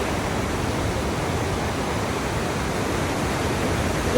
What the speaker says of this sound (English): This river is very powerful